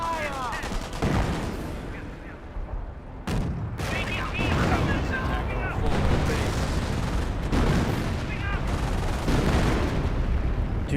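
Bursts of infantry small-arms and machine-gun fire in the World War II strategy game Company of Heroes crackle in repeated volleys, with dense battle noise and booms filling the stretch and a voice talking over parts.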